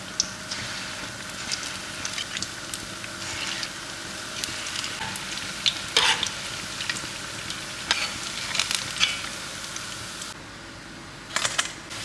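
Batter-coated ripe plantain pieces sizzle and crackle steadily in hot oil, a continuous close frying hiss with small popping bursts throughout.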